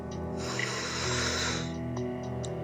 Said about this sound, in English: breathing in